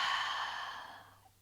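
A slow, soft exhale during a gentle shoulder and chest yoga practice, one long breath out that fades steadily away, close and quiet.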